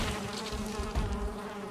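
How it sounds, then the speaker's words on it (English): A bee buzzes in a video game, a faint, steady droning hum that holds with little change, with no speech over it. "All right, this is a bee."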